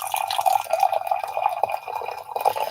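Water trickling and dripping into a cup of coffee that already holds milk, a steady light splashing stream running for a few seconds at close range.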